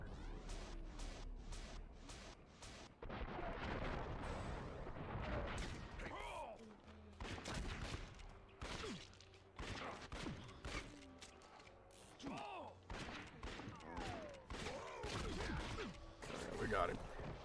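Rapid gunfire crackles through a Western shootout video game, dense volleys with sharp cracks, impacts and thuds that come in bursts separated by brief lulls, loud and close throughout.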